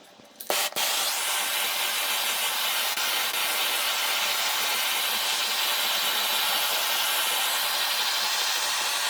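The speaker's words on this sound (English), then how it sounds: "I'm just going to run some fire over it real quick to darken it" A torch flame roars with a steady, close, broadband hiss as it darkens scrap wood on a storage chest. It starts after a short click and runs unbroken throughout.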